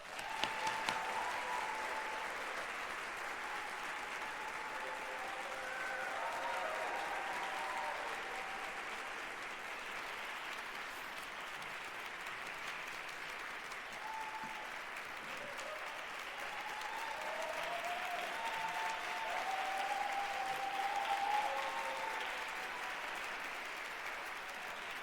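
An audience at a university symposium applauds to welcome a speaker, sustained steady clapping from a sizable crowd lasting the whole stretch, with scattered cheers and voices mixed in.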